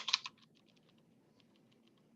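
Keys on a computer keyboard rattle in a quick burst of close clicks, then taper into scattered soft taps over a low room hum, fairly quiet overall with no speech.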